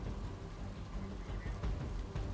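Heavy rain pours steadily over Surat streets, a dense continuous hiss with low rumbling underneath, loud and unbroken throughout.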